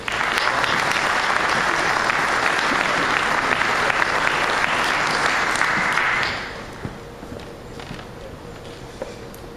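An audience bursts into strong, sustained applause welcoming a rabbi to the podium at a police department briefing, loud dense clapping for about six seconds before thinning out to a few scattered claps.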